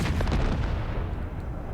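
Artillery fire in the strategy video game Empire: Total War, a dense rumbling boom of cannon shots blending into a sustained low roar with scattered sharper cracks, loud and close, no voice heard.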